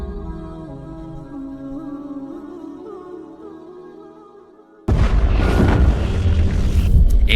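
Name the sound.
explosion boom sound effect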